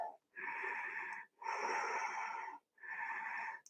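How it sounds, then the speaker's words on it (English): Deep Ujjayi yoga breathing in a twisting flow class, three long, hissing, ocean-like breaths with brief silent pauses between them, close and steady. "Deep Ujjayi breaths."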